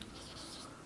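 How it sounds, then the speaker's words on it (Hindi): Pen moving across paper while a maths solution is worked out, a soft continuous scratching held at low level with no pauses. "तो हम लोग लिखेंगे पहले क्लियरली"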